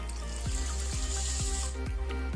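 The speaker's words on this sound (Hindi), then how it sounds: "तो इसे 2-3 पानी से धोना बहुत ही ज़रूरी है।" Soaked toor dal, or pigeon peas, is rinsed in water in a kitchen, with steady running and sloshing water and regular low thuds roughly every half second, loud and close, with no one talking.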